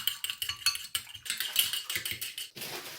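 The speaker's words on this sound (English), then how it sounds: "Now we're going to mix our egg up." Egg being whisked with a utensil for a jalapeño popper coating, giving a rapid run of light clinking, scraping taps against the bowl that continue steadily and close up without any talk.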